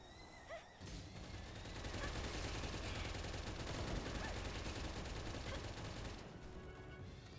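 Sustained video-game gunfire as gunners battle Mamorests, a dense continuous barrage of rapid shots and booming impacts lasting several seconds, loud and close after a brief quiet start.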